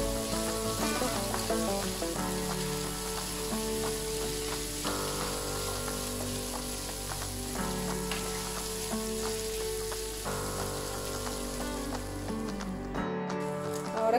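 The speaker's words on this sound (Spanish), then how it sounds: "le vamos a agregar también las rancheras y las vamos a sofreír muy bien" Bacon and ranchera sausages fry in a pan with a steady, close sizzle and crackle that runs continuously without talk, with occasional scraping stirs.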